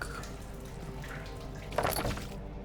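A bucket of water hauled up from a well in the horror game Amnesia: The Dark Descent gives a brief watery slosh and splash near the end of a quiet, low ambient hum.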